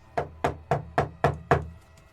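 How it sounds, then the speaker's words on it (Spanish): Someone knocks on a bedroom door, six crisp wooden raps in steady rhythm, close and clear against a quiet background. "En ese momento alguien tocó a la puerta de su alcoba"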